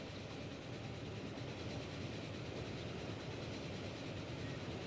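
A train rolls along the railway in the video game Archipelago, a steady, continuous rumble of wagons at moderate, even loudness throughout, with no voices over it.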